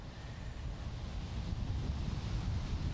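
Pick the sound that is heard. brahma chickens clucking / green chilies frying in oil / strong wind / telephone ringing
strong wind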